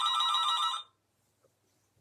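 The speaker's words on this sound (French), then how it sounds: "Excusez-moi, c'est le téléphone." Telephone ringing in a home craft room, a single bright electronic ring burst lasting under a second, then silence apart from faint background noise.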